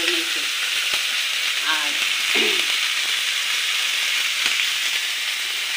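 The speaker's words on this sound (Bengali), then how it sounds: "তারপরে আপনাকে দেখাচ্ছি এবার মশলাটা দিয়ে কষাচ্ছি" Masala frying in a pan with bottle gourd greens, a steady sizzle running throughout with a few brief stirring scrapes and a short spoken word.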